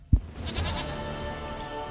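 Princess the goat bleats in The Witcher 3, one short nasal bleat that wavers for a moment, close and clear over a quiet background.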